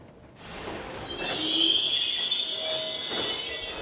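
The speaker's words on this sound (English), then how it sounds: "we see the latest train from Ukraine arrive, filled with families escaping war" A train from Ukraine rolls into Przemysl station in Poland carrying refugee families, with a steady rumble under high, sustained metallic wheel squeals that build and hold, heard from nearby.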